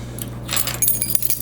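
Keys on a paracord keychain with a small clip jangle close by in a short burst of metallic clinks over a steady low hum.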